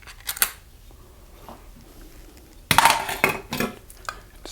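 Canned tomato soup is tipped into a cooking pot in a home kitchen. A sudden loud clattering scrape of metal carries on in bursts for under two seconds, close up, after a few earlier light clinks.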